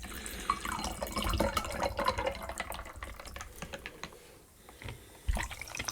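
Lime sparkling water poured into a glass, a fizzy splashing trickle with crackling bubbles and small clinks, close and moderately loud, tapering off toward the end.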